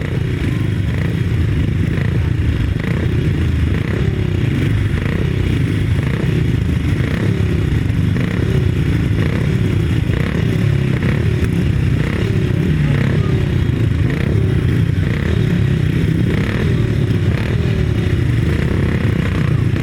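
350cc solo motorcycles race on a grasstrack, their engines a continuous loud, rough roar with rising and falling revs. Distant commentary sits faintly beneath the noise.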